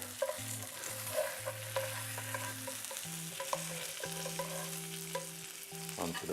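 Salmon fries in a smoking pan, a continuous crackling sizzle with scattered pops and stirring scrapes, heard alone without talk; a steady low tonal hum runs underneath.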